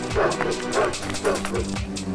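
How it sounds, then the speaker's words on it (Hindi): Several village dogs bark and yip in quick repeated bursts as they chase a fleeing man, the barking close and loud with a brief whimper among it, while a voice speaks over it. "गांव के कुत्तों ने दूर तक उसका पीछा किया"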